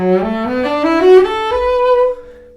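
A sustained cello note bends upward in pitch, a double bend on F sharp, rich and close, swelling then fading out after a couple of seconds.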